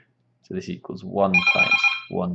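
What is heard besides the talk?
telephone ringing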